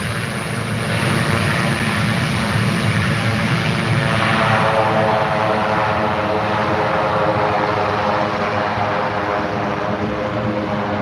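A propeller tanker airplane taxis at an uncontrolled airport, its engine droning loud and steady throughout with a throbbing buzz that shifts slightly in pitch, close by and alone without speech.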